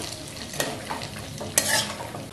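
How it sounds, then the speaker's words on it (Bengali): Marinated Gobindobhog rice tipped into a hot frying pan for Bengali sweet polao, then stirred: close scraping stirs and a steady sizzle, with a sharper clatter of rice hitting the pan near the end, no talking. "এবার দেখো চালটা আমি এর মধ্যে দিয়ে দিচ্ছি। দেওয়ার পরে ভালো করে 2-3 মিনিট সুন্দরভাবে নেড়ে নেব।"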